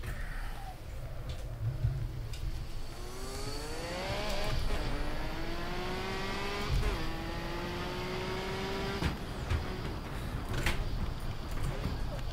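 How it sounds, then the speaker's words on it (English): Turbocharged race car in Assetto Corsa accelerating hard, its engine note climbing steadily through several long rising sweeps with a whirring turbo edge, tire noise underneath, while someone talks over it. "It's ridiculous, the turbo, how it kicks in."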